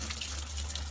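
Water running steadily into a planter and trickling down through the soil, a continuous close wash of flowing water with no pauses.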